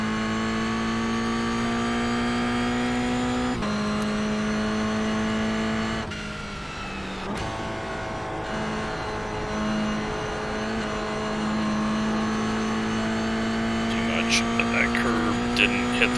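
Toyota GR86 Cup race car in iRacing at Tsukuba Circuit, engine droning steadily with rising harmonic pitch as it accelerates through gears, a shift break around midway, then climbing again with some faint chirps near the end.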